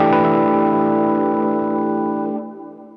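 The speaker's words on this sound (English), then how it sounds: "So harmonics are for sure going to be at the 12th fret on I think every guitar." A harmonic chimes at the 12th fret of a guitar through an effects chain. The single bell-like tone sustains clearly for a couple of seconds, then fades away.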